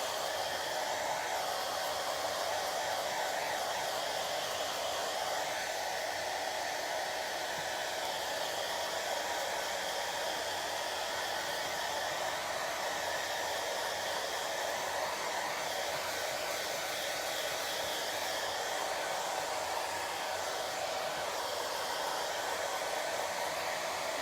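A hair dryer on its cold setting blows steadily at close range to dry a freshly washed craft transfer, a continuous loud rushing whoosh that holds even and unbroken with no pauses.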